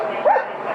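Police dog Stone gives a single sharp bark during a police callout at a house where an alleged gunman is being subdued.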